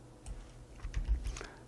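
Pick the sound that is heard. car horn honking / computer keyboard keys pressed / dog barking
computer keyboard keys pressed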